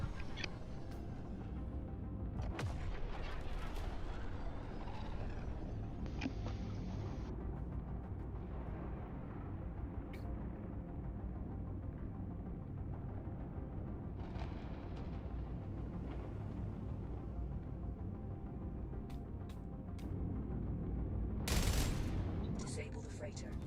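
Ship weapons in a space video game fire on a freighter in a steady, dense, rumbling barrage under a continuous mechanical drone, with a few sharper bursts and a louder blast near the end.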